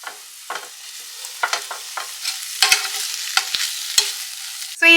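A pan of spiced egg gravy with tomato ketchup is stir-fried, with irregular scraping strokes and clinks of a spatula over a faint sizzle, close and clear, ending in a sudden louder burst.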